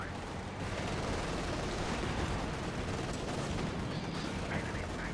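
A Tiger tank fires at a KV-1 in a wartime strategy video game, buried in a dense, continuous wash of battle noise and rumbling gunfire that stays loud and unbroken throughout.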